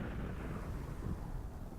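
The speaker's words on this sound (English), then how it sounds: "There's Behemoth just screeching through the sky like a lightning bolt" Behemoth monster thundering through the sky in Final Fantasy XI, a deep, rumbling roar with a low, thunder-like swell, loud and continuous, with no talk.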